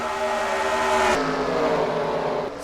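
Race cars roaring around the dirt oval at Bristol in a racing video game, engines loud and close with a rising then shifting pitch as they run side by side, no voices.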